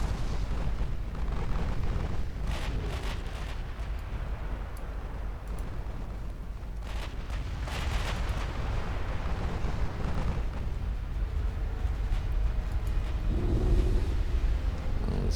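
Ultimate Admiral Dreadnoughts naval battle: 16-inch battleship guns fire in a dense, rumbling barrage, heavy booms layered over a constant roar of explosions and water bursts, loud throughout with no talking.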